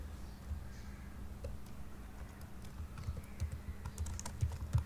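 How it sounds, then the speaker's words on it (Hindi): Close, fairly quiet clicks of a computer keyboard as a file name is typed, an irregular patter of keystrokes that quickens and grows denser toward the end, with no voice. "फाइल का नाम लिखा"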